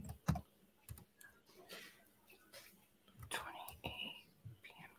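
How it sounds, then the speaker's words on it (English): Computer keyboard keys click in short, irregular bursts, faint and close, with soft whispering and murmured talk mixed in between the taps. "Everybody's quiet while I'm typing."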